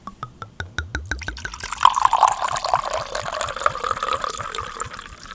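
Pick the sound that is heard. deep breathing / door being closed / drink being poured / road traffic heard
drink being poured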